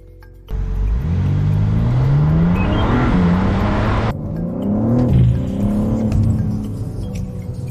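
A car engine revs hard in sport mode with traction control switched off. The loud sweeping roar climbs, drops back and rises again in a second strong surge, close and alone.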